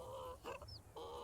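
A farmyard rooster clucks in The Sims 4, giving a quick run of throaty clucks and a brief high squawk over a steady background game hum.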